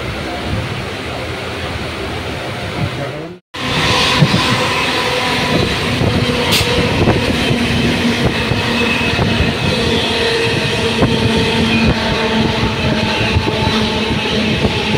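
A passenger train travels between Asansol and Murshidabad with a continuous loud rumble and the clatter of wheels on rails, heard from inside a carriage. There is a brief dropout early on, then the steady rolling noise continues.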